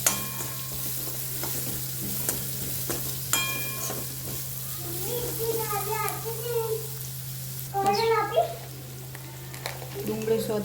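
Chopped onions sizzle in a pan for a Rajasthani pyaz kachori filling, with a steady frying hiss broken by scraping stirs and clinks, while a person talks intermittently over the cooking.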